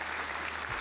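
A short burst of applause, steady dense clapping held briefly at an even level with no voices on top.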